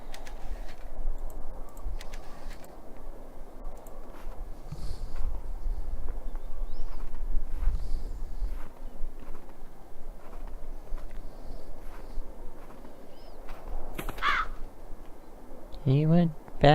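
A bird caws in the horror video game Dead Secret, with a couple of harsh calls near the end over a low ambient drone and someone talking.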